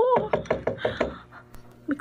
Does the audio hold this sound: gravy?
no